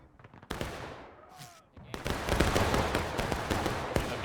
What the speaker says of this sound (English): And here comes the EB trying to get a volley on.